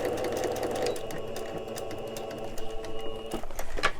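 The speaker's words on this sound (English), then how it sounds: "So you can see I just sewed that transparency on top" A sewing machine stitches a clear transparency sheet onto a handmade notepad, its needle chattering in a rapid steady mechanical rhythm up close, with a few heavier thumps as the stitching ends.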